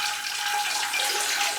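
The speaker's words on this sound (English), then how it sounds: "I pour a lot of water in through the holes in the basket" Water poured through the holes of a plant's basket pot to soak its aerial roots, a steady close hiss and trickle holding evenly from start to finish.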